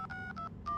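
Several short telephone keypad tones beep in quick succession, faint and close, each a brief clean dual tone with small gaps between them.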